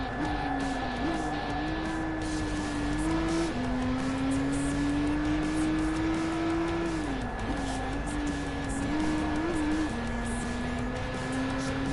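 Volkswagen GTI engine in the racing game GT Sport, a steady droning rev that climbs through gears with brief shift dips, loud and continuous across the whole stretch, no talking.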